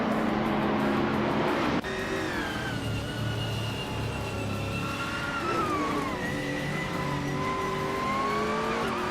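Race car engines roar continuously in a video game racing event, a dense high-pitched whine with pitch shifts as cars accelerate and pass, plus a sharp jump in intensity near the start.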